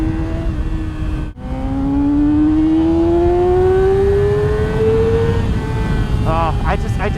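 A Yamaha motorcycle engine, R6 or R7, revs up loud and close, its pitch climbing steadily over several seconds after a brief cut, then dropping back as the throttle settles.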